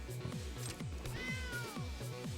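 Cat meows from a Caracal card in the digital card game MTG Arena ring out over rhythmic game music, a drawn-out meow clearly audible.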